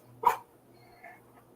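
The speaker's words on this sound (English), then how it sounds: "My dog's like choking." A dog lets out one abrupt hacking burst, as if choking or coughing, followed by a softer second sound, close by against a quiet background hum.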